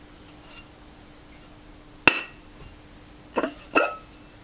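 Glazed GP ceramic bowls clink sharply as they are lifted from the bottom of a kiln, one bright knock followed a moment later by two more close clinks, against a quiet background.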